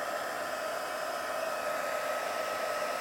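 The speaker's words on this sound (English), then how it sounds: "And your heat tool is really warm, so you want to be careful not to scorch your surface." A crafting heat tool blows hot air for embossing, giving a steady, loud, unbroken whir that stays constant throughout with no other sounds.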